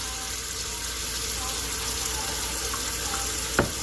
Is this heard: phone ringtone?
no